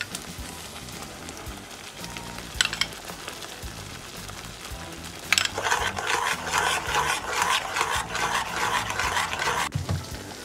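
Spoon scraping and stirring through a thick paneer makhni gravy in a pan as Greek yogurt is mixed in, a soft rough rasping that starts faint and grows into steady, louder stirring strokes near the end.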